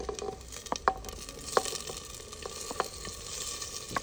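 Onions frying for chicken karahi, cooked outdoors, give a steady close sizzle punctuated by occasional scraping stirs and light metallic clinks of utensil against pan.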